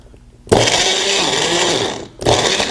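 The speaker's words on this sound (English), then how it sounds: "Screw on the 4-blade mixer top, and let's mix it up." A Magic Bullet blender with the 4-blade mixer top whirs loud and close as it mixes milk. The harsh motor runs for well over a second, stops briefly, then starts again.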